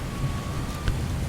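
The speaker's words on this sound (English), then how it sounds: "This is a hell of a storm." Steady rain hisses under a low rumble of thunder during a storm in Microsoft Flight Simulator 2020, with one brief sharper crackle near the end and a thin faint tone running through.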